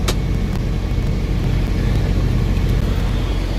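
A pickup truck idles and strains in a steady low rumble while pulling against a hitched trailer during a tug test of the trailer brakes, close and constant, with no voices.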